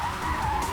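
A car speeds and skids during a police chase, its tires giving off a brief, loud, sustained squeal over engine roar, with no talk heard.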